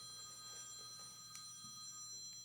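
A house phone rings faintly in the distance with an electronic tone that sustains through the moment, low under a quiet room hush, with no talking over it.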